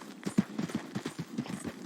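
Horse hooves clip-clopping at a steady walking rhythm in Red Dead Redemption 2, a run of moderately loud, even thuds alone without voices.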